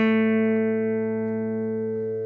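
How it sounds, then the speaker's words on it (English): A single open A string plucked on an acoustic guitar rings out alone as one sustained note with rich harmonics, slowly decaying over a couple of seconds. "Now you notice this note, that's our open A."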